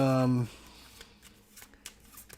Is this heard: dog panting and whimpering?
no